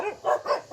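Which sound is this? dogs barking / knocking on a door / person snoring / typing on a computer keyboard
dogs barking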